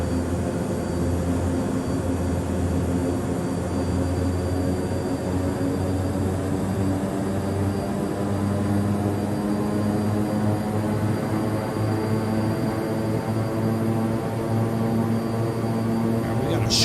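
Black Square King Air turboprop taxiing in a flight simulator, a loud, steady droning hum with layered engine tones and propeller buzz, unchanging throughout.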